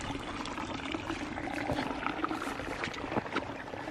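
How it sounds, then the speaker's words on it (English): Raging river rushing past at a trail crossing during a monsoon, a dense, steady roar of churning water with splashes throughout, loud and close with no talking. "another raging river crossing."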